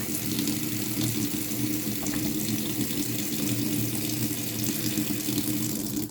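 Steady, loud water stream from the tap of a Clage MCX4 instant electric water heater, running continuously and close up with no breaks.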